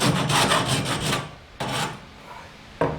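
A file rasps against a drilled tube to clear away burrs, in quick, loud back-and-forth strokes. A run of rapid strokes is followed by a pause, then a short burst, and one more stroke comes at the end.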